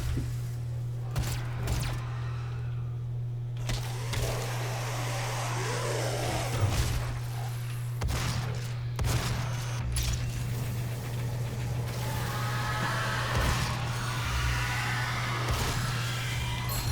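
Pistol shots fired at a Mancubus in Doom (2016): sharp, separate cracks at irregular intervals over a steady low game drone and rumbling background.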